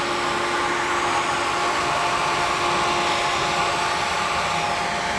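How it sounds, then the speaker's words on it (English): Natural gas grain bin dryer blowing heated air through a column of soybeans, a loud, steady broadband roar of fan and burner with a constant tonal hum, unbroken throughout. "you blow heated air through the grain column"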